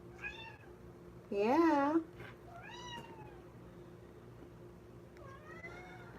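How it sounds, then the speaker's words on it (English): A pet cat meows several times, one loud drawn-out meow followed by softer, shorter calls spaced apart; a person speaks briefly and a faint steady hum runs underneath. "I almost believe I could teach this cat to talk, seriously."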